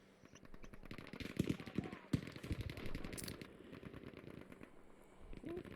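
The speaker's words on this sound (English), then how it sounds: "This is going to be a clash of gunfire." Bursts of automatic gunfire in the video game Frontlines, a clash of rapid overlapping shots with a few louder cracks in the middle, set against a busy background.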